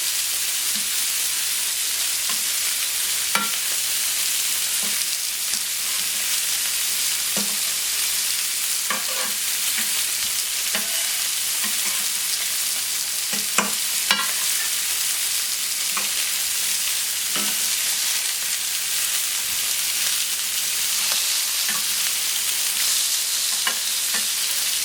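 Duck breast sizzles and crackles steadily in a hot pan, a dense frying hiss broken by occasional louder pops and spits, close and continuous with no talking.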